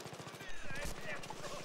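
Rapid, steady automatic gunfire in the Battlefield 3 video game, a fast rhythmic burst running throughout at moderate distance, with someone talking over it.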